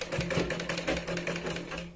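A sewing machine stitches a blouse in a quick, rattling burst of needle strokes, a close mechanical clatter that runs evenly for a couple of seconds.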